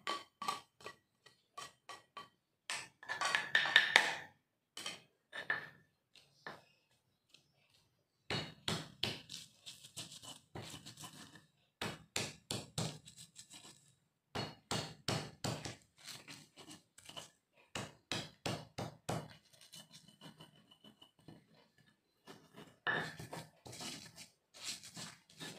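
Chopped onion and garlic being pounded in a stone mortar with a pestle, a long run of sharp rhythmic knocks in quick bursts separated by short pauses, close and clear with no talking.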